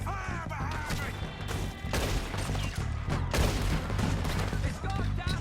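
Rapid gunfire fills a Red Dead Redemption 2 shootout, with overlapping volleys and sharp cracks in a dense, busy game soundscape that seems to carry shouting and other game sounds.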